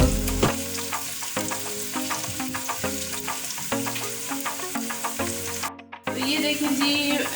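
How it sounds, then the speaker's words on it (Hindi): Onions frying in oil for a tadka give a continuous close sizzle under steady background music, with a brief silent gap near the end. "ऑनियन हमारी हो गई मज़ेदार सी फ्राई।"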